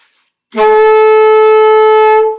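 One long, sustained alto saxophone high F sharp plays loud and steady with a rich harmonic tone, starting after a brief silence and holding for nearly two seconds.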